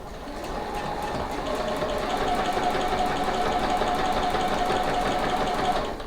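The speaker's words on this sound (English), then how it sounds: "run it through the machine using a 1/4 inch seam allowance" A sewing machine runs continuously while stitching quilt pieces with a 1/4 inch seam, giving a steady, fast, close mechanical whir with rapid needle rhythm and no voices.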